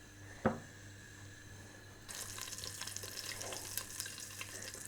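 Cumin seeds hit hot oil with a sharp splash, and after a short quiet pause a steady, close sizzle and crackle of frying starts and continues.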